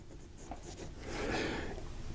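An Esterbrook 2968 firm broad fountain pen nib scratches across paper. The writing is quiet: faint strokes at first, then a steadier, louder rasp of the nib dragging with feedback in the second half. No voices.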